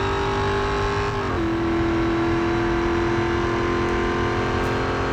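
Car engines racing in the Real Racing 3 video game, a loud steady engine drone holding a high tone that drops sharply as a gear shifts, then carries on evenly without pause to the end.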